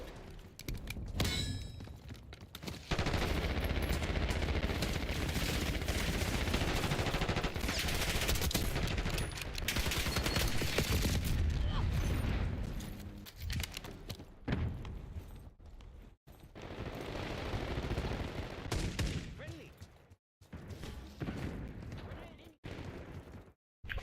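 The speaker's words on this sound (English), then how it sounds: "Shooting this guy. Dodging the bullets." Sustained bursts of automatic gunfire in the video game Black Ops 6 fill the scene, dense and loud, broken by short pauses and scattered shots.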